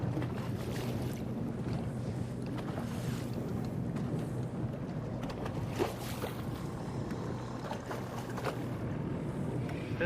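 Outboard motor on a bass boat running rough on Lake St. Clair, its lower unit failing, giving a steady droning engine hum over wind and water noise with no pauses.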